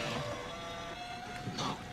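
A desktop printer working nearby, a steady mechanical whir with a thin sustained tone and a brief louder burst near the end.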